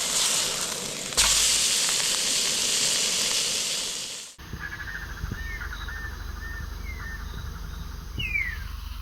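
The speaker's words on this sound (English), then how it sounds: "right now we're going to cook this Wagyu" Namibian Wagyu rump steak sizzles in a loud, steady hiss for about four seconds, then cuts abruptly to a quieter outdoor scene where birds chirp in the distance.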